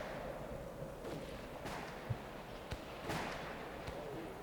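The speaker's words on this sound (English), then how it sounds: "I don't know what they're shooting" Several distant gunshots crack across an Appalachian holler: sparse, faint pops spaced a second or so apart over a low, steady outdoor hum.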